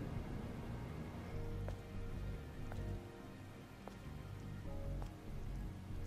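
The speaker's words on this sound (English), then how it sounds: "This must be Earth's rain." Steady rain patters on hard surfaces in the Stellar Blade video game, a dense even hiss with scattered individual drop taps, heard alone without talk.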